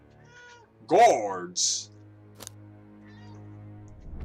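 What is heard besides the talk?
cat meowing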